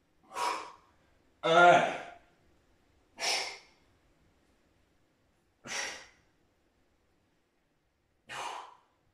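Five forceful, breathy exhalations during a dumbbell chest and back workout, evenly spaced with silence between them and close to the mic; one short spoken word mixes in.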